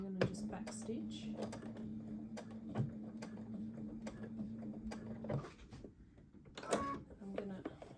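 A sewing machine runs steadily while back stitching fabric, a whirring drone with rhythmic needle clicks for about five seconds, then it stops and scattered handling clicks follow.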